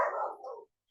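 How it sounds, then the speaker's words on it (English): A single dog lets out a short, close bark-like yelp with a trailing second burst, lasting under a second before silence. "The dogs cannot believe what you're saying."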